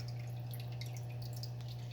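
Water from a hang-on-back aquarium filter trickles in a soft, steady waterfall over a low continuous hum, quiet and unbroken throughout.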